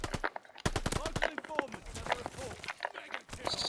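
Rapid gunfire from shooting bots in Call of Duty cracks out in dense bursts with quick footsteps mixed in. Close and sharp, with talk over the top.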